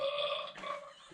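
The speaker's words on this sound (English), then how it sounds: "The fart sound is the best sound." A toy sound effect machine plays a short, buzzy, tonal fart noise, loud and close, lasting about a second with a slight wobble in the middle.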